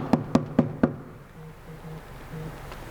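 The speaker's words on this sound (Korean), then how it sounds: "누가 문을 두드리대요." Four sharp, evenly spaced knocks on a door, close and distinct, followed by a low hum.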